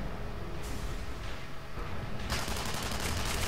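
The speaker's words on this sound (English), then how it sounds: "this will give you an idea of how powerful the submachine gun is here" Rapid submachine gun fire from a Technician in the shooter Tribes Ascend: sustained bursts of automatic shots that grow denser and sharper in the last second, set against a steady game background.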